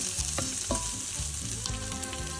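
Guanciale frying in a pan for bucatini all'amatriciana, a steady close sizzle and crackle with a few sharp pops and scraping stirs over about two seconds.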